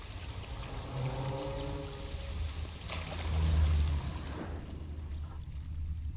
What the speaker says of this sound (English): A waterfall flowing upwards?